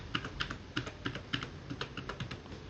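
A PIN is typed on a computer keyboard as a string of about a dozen crisp, evenly spaced key clicks, close and clear with no talk.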